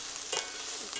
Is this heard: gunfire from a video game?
no